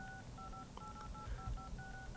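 iPhone dial pad tones at reduced volume, a rapid series of about eight short paired beeps pressed in quick rhythm, quiet and alone over faint background noise.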